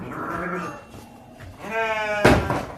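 Texel sheep in a pen bleat, one short low call followed by a longer wavering bleat, and a sharp thud lands near the end, close and fairly loud.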